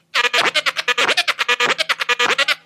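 Rapid DJ flare scratches on a turntable: a dense train of quick, clipped stutters chopping a sample into many short bursts, close and loud, with no talking over it.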